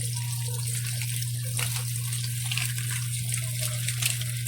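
A Hanabishi 4.5 kg automatic washing machine filling with water for its last rinse, a steady close rushing gush over a constant low motor hum, with no pauses.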